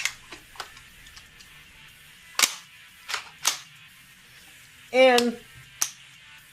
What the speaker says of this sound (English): the trigger also makes a click sound